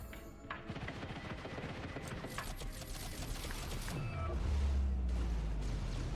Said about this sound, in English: He gets to die by Missile Swarm.